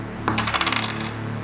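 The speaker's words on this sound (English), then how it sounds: "Now let's roll some dice." A four-sided die clatters and rattles briefly on a hard surface, a quick burst of small clicks that settles in about half a second, close and fairly loud with no voices.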